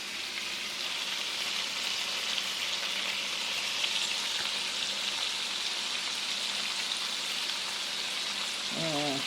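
Shrimp fry in a pan after several minutes of cooking, giving a steady, close, continuous sizzle that goes on without a break.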